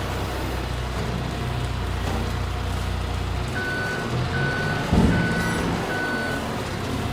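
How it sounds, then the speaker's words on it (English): A telehandler in Farming Simulator 25 gives four evenly spaced reversing beeps over a steady engine drone, the low rumble dropping midway before the beeps begin. "I can take my little tele-truck here"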